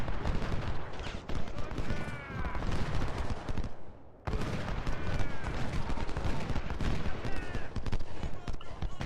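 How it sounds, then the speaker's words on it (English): Flanking musket fire from skirmishers in an Ultimate General: Civil War battle at Antietam, dense crackling volleys of shots layered continuously, with a brief lull before the firing resumes at full intensity. "We do have the flanking fire from post skirmishers."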